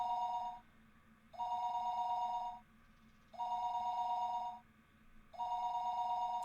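A telephone ringing in the Higurashi video game, repeated electronic bell bursts of about a second each separated by short gaps, loud and steady with no voices over it.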